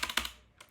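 A few close keystrokes tap on a computer keyboard while code is being typed: two quick clicks, a pause, then another faint tap.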